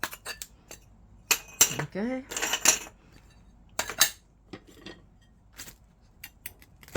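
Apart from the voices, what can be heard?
glass cutter scoring glass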